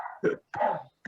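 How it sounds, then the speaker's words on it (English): A dog whines and yelps behind a closed door it shut on itself, three short muffled cries separated by brief silences. "He shut the door himself, and then he's crying for not being able to open it."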